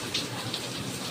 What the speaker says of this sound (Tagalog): Ngayon actually, umuulan.